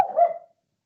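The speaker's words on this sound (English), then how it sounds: "dogs barking as well" A single short dog bark near an abbey beside the River Tweed, a brief burst that dies away quickly into silence.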